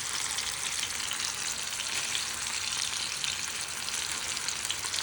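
Fish shallow-fries in a small amount of oil, giving a constant bright crackling sizzle with fine popping that stays even and close throughout, with no talking.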